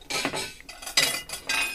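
Metal cooking pot clinking in a home kitchen: a few short, bright clinks and scrapes in quick succession, close and fairly quiet, with no talking.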